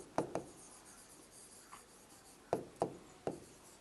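Pen or pencil strokes on paper during a primary school maths lesson on decimals, heard as a few short scratchy taps and scribbles, sparse and fairly quiet, with no talking.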